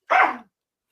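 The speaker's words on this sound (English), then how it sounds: "Whoop, that's my dog." A single sharp dog bark from one of several breeding dogs on the other side of a wall, brief and fairly loud, followed by silence.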